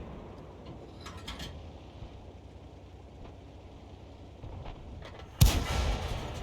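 A distant tank cannon fires at long range in a tank battle video game, a low rumbling background building to one sharp, loud booming report near the end, with faint earlier thuds.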